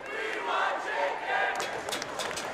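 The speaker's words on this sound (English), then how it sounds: "You can hear the students right now." Student section crowd at a New Mexico State vs UC Irvine men's college basketball game, a loud sustained roar of massed voices that swells into rhythmic chant-like bursts, close and filling the arena.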